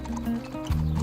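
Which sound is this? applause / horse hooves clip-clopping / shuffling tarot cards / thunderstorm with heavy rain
horse hooves clip-clopping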